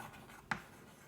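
Chalk or marker scratches briefly on a board during a chemistry lesson on crystal lattices, one sharp stroke standing out against a faint, quiet room.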